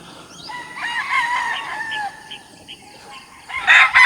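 Chickens in a coop crow and cluck repeatedly, a rooster's drawn-out call rising over steady clucking, with a louder burst of crowing near the end.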